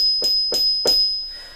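Three bright, ringing strikes on orchestra bells sounding the higher E flat, evenly spaced and close, each with a sharp attack and a shimmering decay, the last one fading out alone.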